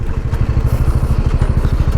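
Motorcycle engine pulling hard through a gear while riding, a steady close low throbbing with rapid rhythmic pulses and faint clatter, loud and continuous with no talking.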